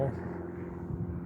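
A small airplane passes overhead above a backpacking trail at Tettegouche, its low steady engine drone fairly distant and continuous, with a voice faintly present beneath it.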